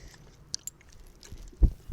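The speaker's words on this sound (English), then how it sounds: "I'm also chewing on 6 chewing gums" Six pieces of chewing gum being chewed on a walk, giving soft close mouth sounds with a few crisp clicks and a couple of louder wet smacks near the end.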